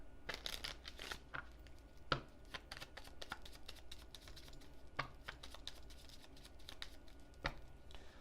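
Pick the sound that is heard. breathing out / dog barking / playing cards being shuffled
playing cards being shuffled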